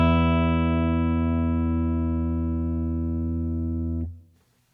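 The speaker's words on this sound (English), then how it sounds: "the top E string drops in volume in 3 seconds, while the low E string takes 9 seconds" An electric guitar's low and high E strings ringing together, a rich sustained tone that slowly decays for about four seconds before being cut off abruptly, heard alone.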